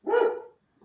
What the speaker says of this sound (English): our dog is going crazy